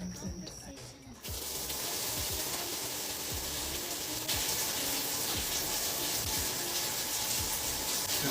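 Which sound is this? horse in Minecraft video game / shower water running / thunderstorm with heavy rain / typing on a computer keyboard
shower water running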